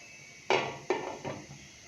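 A metal lid is set onto a karahi of simmering lamb, giving three close clanks in quick succession, each ringing briefly over a low steady background hiss.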